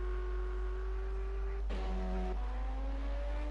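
A race car spinning out at Watkins Glen in the racing game Project Cars, a steady engine drone that breaks suddenly into a shifting whine and tire scrub, then settles back to a rising engine note, all without talk.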